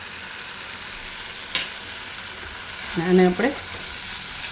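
Spiced gravy cooking in oil in a pan and stirred now and then, a steady close sizzle with a spoon scrape, and a brief spoken phrase partway through.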